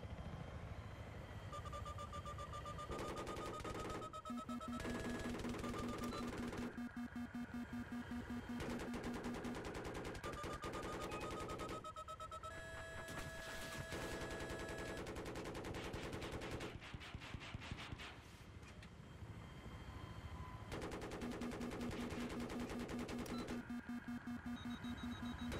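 Voice imitating rapid L85A2 rifle fire, bursts of sharp staccato shots alternating with tonal whistles and effects, dense and continuous throughout with brief gaps, loud and close.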